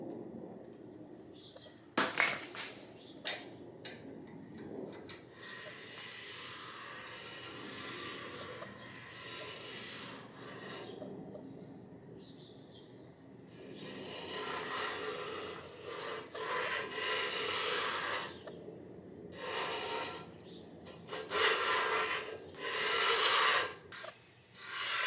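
A bladed ridge cutter, lubed with WD-40, spins inside an AMC 360 engine cylinder to cut away the ridge, making a steady rasping, scraping grind in long close bursts with brief pauses and a sharp clank early on.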